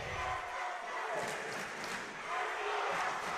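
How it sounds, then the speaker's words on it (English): A crowd at a varsity volleyball game, Community against Suburban, chants and roars in a gym, dense and steady from start to finish, with no clear single voice. "The chants are away."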